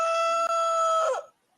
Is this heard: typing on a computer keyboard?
no